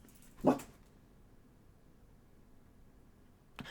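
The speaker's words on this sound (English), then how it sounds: "It's my dog." A dog gives one sharp bark near the start of an otherwise quiet room, followed by a fainter short sound at the very end.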